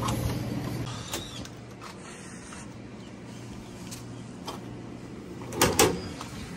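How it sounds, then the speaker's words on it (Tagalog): Doors opening on a vehicle, a low mechanical hum with several creaks and thuds, louder clunks near the end, no talking. "bubuksan din natin lahat ng pinto"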